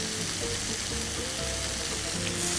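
Food turned over in a hot pan fries with a steady, close sizzle that holds evenly throughout, with no talking.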